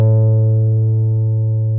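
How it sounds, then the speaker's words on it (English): An open A string on a guitar rings as a single sustained note, struck once and left to decay slowly and evenly, clear and close with no talking. "And there's your A"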